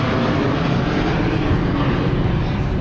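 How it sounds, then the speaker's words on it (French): Airplane passing overhead at a night market in Chiang Mai, a loud continuous engine roar filling the scene without a break. "Alors, il y a un avion qui passe."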